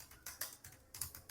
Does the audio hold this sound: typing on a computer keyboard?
yes